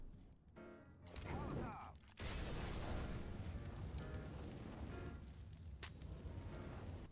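A molotov burns in Counter-Strike on Vertigo, a loud, dense roar of flames after a sharp ignition whoosh, crackling steadily without pause.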